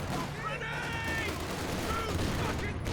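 MP40 submachine guns fire in a Company of Heroes 2 battle: rapid bursts and scattered shots over a constant battle din, loud and close, with no talk over them.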